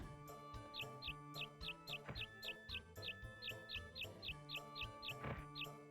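A repetitive game bird in Harvest Moon 64 on a farm chirps in a steady string of short, evenly spaced tweets over looping background music, faint and with no talk.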